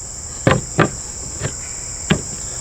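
XOP Ultra Single Step Mini Stick climbing stick sections clipping together, four sharp clicks and knocks at uneven intervals, fairly close, over a steady high-pitched whine.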